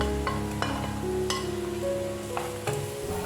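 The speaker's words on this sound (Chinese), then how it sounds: "将葱蒜末炒香，炒至有点微黄，就加入虾米末，香茅和辣椒干也一起加入" Scallion, garlic, dried shrimp, lemongrass and dried chilies stir-fry in a wok with a steady close sizzle. A spatula scrapes and knocks now and then, over a background hum.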